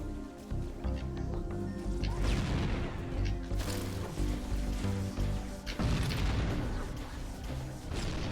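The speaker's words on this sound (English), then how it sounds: "Oh, it's a rocket launcher." Rocket launcher blasts in Halo CE, several heavy explosive booms and crashes in quick succession amid busy combat noise, fairly loud and close.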